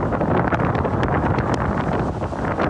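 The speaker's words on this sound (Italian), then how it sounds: "Il vento che spira su Palermo è fortissimo" Strong wind gusting over Palermo, a loud continuous roaring buffet that batters the microphone throughout with no letup.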